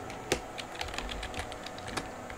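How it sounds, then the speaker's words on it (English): Keys clatter on a computer keyboard in quick, irregular bursts of taps, fairly close and moderately loud, with a few sharper strokes standing out over a steady low background hum. "Oh, keyboard"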